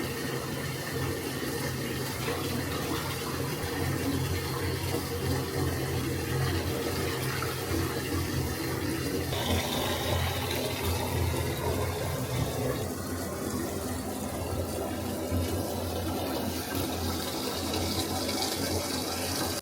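Water runs steadily from a tap into a bathtub, a continuous close splashing rush that shifts in tone partway through as the fill changes.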